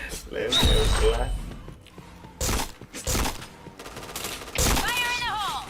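Gunshots ring out in the shooter game Point Blank in several loud bursts separated by short gaps, with a voice talking over the action.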